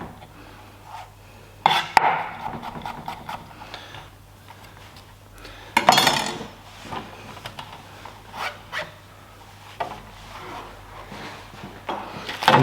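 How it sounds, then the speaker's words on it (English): A knife slicing gherkins for a burger garnish on a chopping board: sparse, sharp cuts and knocks against the board at irregular intervals, close and fairly quiet over a steady low background hum, with no talk. "I'm just going to slice them for garnishing and going on top of the burger"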